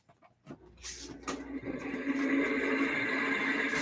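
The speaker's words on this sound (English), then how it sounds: "don't know why the fan just started doing that." A noisy air conditioner fan spins up after a brief pause and settles into a steady, loud whirring drone with a rattling hum that continues to the end.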